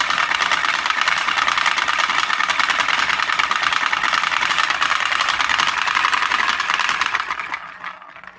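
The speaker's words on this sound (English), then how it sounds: "The basic way this device works is that we have a ball bearing being accelerated around a specially shaped track." A steel ball bearing accelerated around a specially shaped curved track in an impulse drive device makes a loud, continuous whirring rumble that holds steady for several seconds, then fades out near the end.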